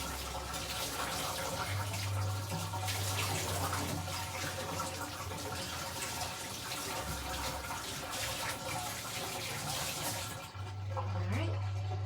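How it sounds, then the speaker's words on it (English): A kitchen tap runs steadily during handwashing, a constant close rush of water with a splashing, washing texture and a brief dip near the end. "I'm just washing my hands and taking the blade out real quick"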